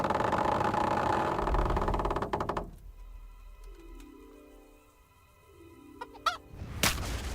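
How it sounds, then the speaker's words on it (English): Chickens cluck and squawk amid the medieval siege battle of Kingdom Come: Deliverance, with loud noisy rumble at first, then quieter stretches of clucking and bird calls, a few sharp spikes near the end. "Chicken!"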